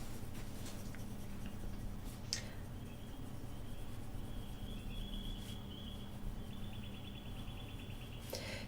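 A coloured pencil is drawn with light pressure across Stonehenge paper, producing a soft, continuous close scratching that carries on steadily throughout, with faint high chirps in the background.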